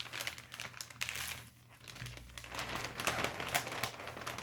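Wrapping paper being folded over a gift, a close, continuous run of crinkling and crumpling with brief papery rustles and no talk.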